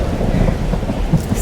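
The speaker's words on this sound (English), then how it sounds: "Why is it storming" A short burst of a thunderstorm in the game Life Is Strange: Double Exposure, dense rumbling rain noise with a low thunder swell, loud and continuous throughout.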